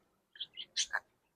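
Birds in a backyard outdoor aviary give a short series of high chirps and tweets, four quick calls over about a second, fairly close and clear against a quiet background.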